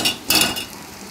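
Andhra-style chicken fry being stirred and fried in a pan, with a couple of quick scraping stirs over a steady soft sizzle, close and fairly loud.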